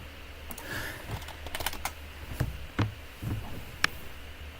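Irregular, close keystrokes on a computer keyboard, a mix of quick taps and a few heavier clacks, over a faint steady hum with no talking.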